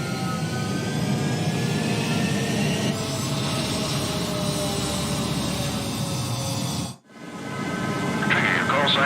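Jet fighters taking off in Ace Combat 7: a steady, loud, roaring engine drone with whining tones that holds throughout, briefly cutting out before resuming, with radio chatter voices over it.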